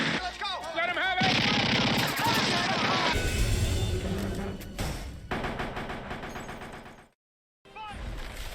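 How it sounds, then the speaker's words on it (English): A Thompson submachine gun fires in a loud, chaotic movie shootout, rapid bursts mixed with shouting voices and crashing effects, dropping to brief silence near the end before noise resumes. "The Thompson Submachine Gun, one of the most prolific weapons in movie history."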